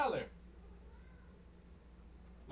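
A pet cat named Valor lets out a single short meow close to the microphone, followed by quiet room tone.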